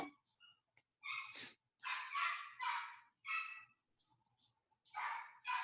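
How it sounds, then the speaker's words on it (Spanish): Small pet dogs bark in short, sharp bursts, several yaps clustered into rapid volleys with brief pauses between, fairly close and alone without talk. "Seguramente escuchan mis perritos de fondo"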